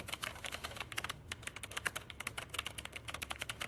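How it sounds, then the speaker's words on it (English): Computer keyboard typing clatters in a steady, dense flurry of keystrokes within AI-generated audio, with a faint background hum and chatter beneath. "Even the typing"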